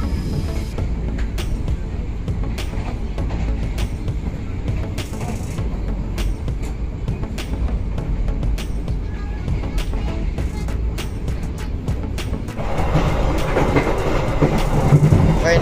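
An Indonesian Blambangan Express train running at speed through Batang station, heard from inside the carriage as a loud, continuous rumble with rhythmic clickety-clack wheel beats that grow rougher and louder toward the end.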